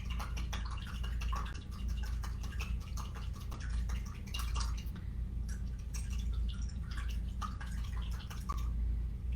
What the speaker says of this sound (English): So I just whisk this all up with a fork until the honey and the salt are really